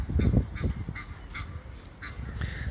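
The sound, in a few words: Egyptian (Nile) goose calling loudly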